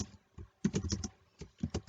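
Keys clatter on a computer keyboard as text is typed into GIMP, in short irregular bursts of close, crisp taps separated by brief pauses.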